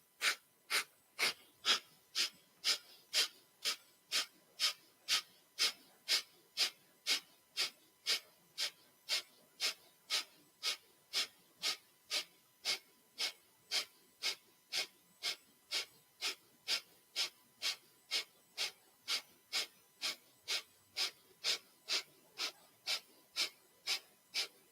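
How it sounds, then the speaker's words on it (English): Breath of fire yoga breathing: rapid, forceful nasal exhalations in a steady even rhythm, about two per second, close and clear, continuing unbroken for the whole stretch with no talking. "use the breath of fire as your fuel and as your power today"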